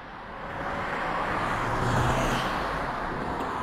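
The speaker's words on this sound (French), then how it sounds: "Laissez la voiture passer." A car passes by on a road outdoors, a steady broadband rumble that swells toward a peak near the middle and slowly fades, with no voices over it.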